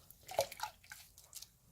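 A Sindy doll's hair is rinsed in a bowl of warm water, producing close, soft sloshing and dripping splashes in a few short bursts, with no talking.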